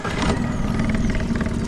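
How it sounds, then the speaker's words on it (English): A Suzuki outboard boat engine fires up from a Rebelcell lithium starter battery on Lough Derg, Ireland, catching quickly and settling into a steady, loud, close running drone with no talking. "I'll show you just how easy it is to start up the engine with that battery."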